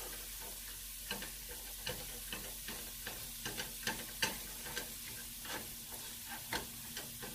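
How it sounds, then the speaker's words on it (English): Ground beef sizzles and fries in a skillet while being mashed, a steady crackling hiss broken by frequent sharp ticks and scrapes of the utensil against the pan. "mash out your beef in the skillet"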